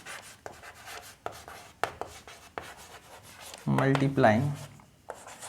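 Chalk or a marker taps and scratches across a classroom board in short, uneven strokes during a maths lesson, and a teacher speaks over part of it.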